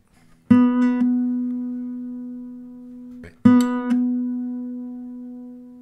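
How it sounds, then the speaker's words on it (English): Two plucked notes on a Dowina hybrid guitar, a D on the A string, each a clear mid-pitched tone that rings on with long resonance and slowly fades, the second struck about three seconds after the first. "I'm playing this D note here on the A string but you can hear the resonance keep on going"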